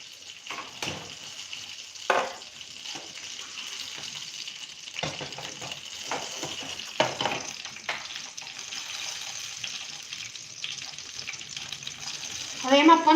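Water boils in a dhokla steamer over a gas flame, giving a continuous bubbling hiss with scattered pops and clatters, and a voice briefly rises at the end.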